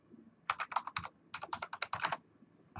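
Fingers tap out a password on a computer keyboard in two quick bursts of crisp, close clicks separated by a brief pause, with no talking.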